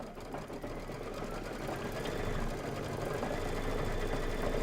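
Embroidery machine stitching quilting lines through fabric for a Kimberbell pillow, a steady, fast mechanical whirring with a low rhythmic needle thump that runs continuously and builds slightly in level.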